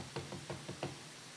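Knuckles rapping on a house door in a repeated series of about five firm, evenly spaced knocks, fairly close and moderately loud, with no voices.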